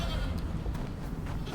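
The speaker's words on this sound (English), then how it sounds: "Oh, to hear the goat cry though" A goat cries in a House of the Dragon episode, a short, faint bleating that is partly buried in background sound.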